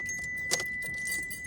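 Car keys jangling in a Mitsubishi 3000GT, a brief bright metallic clink near the middle over a steady background with a faint high electronic whine, close and short.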